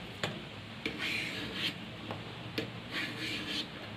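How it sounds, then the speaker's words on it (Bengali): A knife cuts through a fresh, sap-filled papaya in short, regular scraping strokes about once a second, soft and close with a light rasping texture. "পেঁপেটাকে কাটছি এবার"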